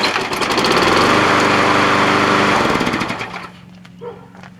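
A Toro Personal Pace lawn mower engine starts and runs with a loud, close, buzzing high-pitched drone, then cuts down to a quieter idle with a small knock near the end.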